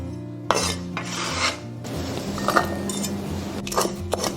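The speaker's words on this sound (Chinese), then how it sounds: "葱白跟小米椒的话我们切圈。" Knife slicing scallion whites and small chilies into rings on a cutting board, with repeated close, rasping strokes and light taps in an uneven rhythm.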